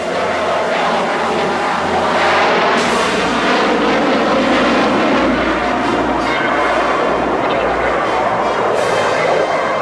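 An F-18 Hornet jet pulls high-G turns during a flying display, its engines producing a loud, sustained roar that swells and shifts in pitch as it maneuvers, with faint voices underneath.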